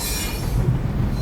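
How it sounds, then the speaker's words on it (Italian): Wheels squeal and a steady low rumble roll beneath a Mauritanian iron ore freight train, loud and continuous throughout, with no voices. "Stanno cavalcando il treno più lungo, pesante, pericoloso al mondo"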